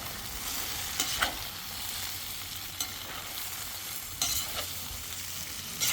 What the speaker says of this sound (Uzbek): Qadrdonlar, piyoz soladigan vaqtimiz ham keldi mana.